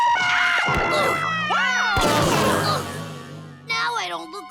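Goo, a cartoon monster, lets out a loud, drawn-out wavering scream of surprise at the scream screen, then a second shriek follows after a short break, with crash-like effects mixed in.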